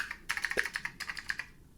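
Clicky keys on the keyboard of an old restored computer, typed in a quick irregular burst of sharp, close clacks with a brief pause midway, heard alone.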